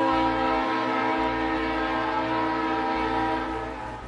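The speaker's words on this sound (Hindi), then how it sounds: "लाहौर रेलवे स्टेशन से पहली नॉन स्टॉप ट्रेन जिना एक्सप्रेस कराची के लिए रवाना।" Jinnah Express, a non-stop passenger train, leaving Lahore railway station with a long sustained horn blast, a loud steady chord over low rumbling, easing slightly at the end.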